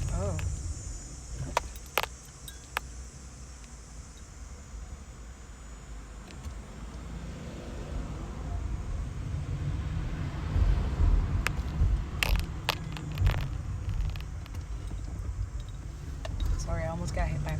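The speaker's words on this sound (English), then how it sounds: "Sorry, I almost got hit by a car." A car passes close by on a road outdoors, a low rumble swelling to a peak and easing off, with insects chirping in the background and brief clicks and rustles near the microphone.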